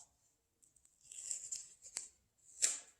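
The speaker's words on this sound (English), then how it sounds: "you can take your label and peel it off" A paper label peeling off a glass jar, with a few faint ticks and then soft, close tearing and rasping strips that come in short uneven bursts, ending with one sharper rip in an otherwise quiet room.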